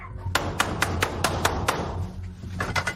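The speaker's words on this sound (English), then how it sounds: "Door knocker. Wooden door knocker." Sharp, evenly spaced knocks from a wooden door knocker on a front door, about eight raps in a steady series, then a short pause and a quicker cluster of three, close and loud over low background noise.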